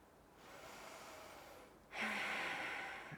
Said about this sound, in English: That ujjayi breath